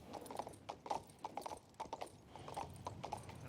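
Horse hooves clip-clop in the King's Bounty 2 video game, a quick uneven run of close, crisp hoofbeats across stone with a faint whinny-like tone, no talking over it.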